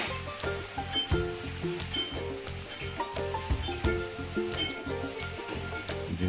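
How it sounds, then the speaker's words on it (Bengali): Ridge gourd fries in hot oil for a Bengali-style posto dish, giving a steady, close sizzle throughout with occasional light clinks and stirring scrapes from the pan. "তেল গরম করে এবারে ঝিঙাটাকে ঝিঙাটাকে ছেড়ে দিলে তেলে।"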